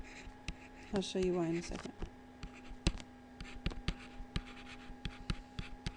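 Marker or chalk writing out marginal cost on a classroom board: short taps and strokes recur through the clip, with someone talking briefly near the start.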